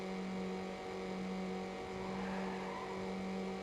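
Race car engines from Need for Speed Underground hum steadily at a constant pitch, a continuous droning whine that holds without pause throughout, with no talk over it.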